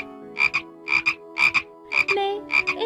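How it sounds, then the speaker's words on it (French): Frog croaks standing in for a princess's voice in a fairy tale, five paired croaking bursts in a regular rhythm, close and clear with quiet gaps between. "Sa voix se métamorphosa en une voix de grenouille"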